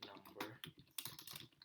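Code being typed on a computer keyboard in a Java rock-paper-scissors project, a quick, uneven run of soft key clicks close to the microphone, quiet and without voices.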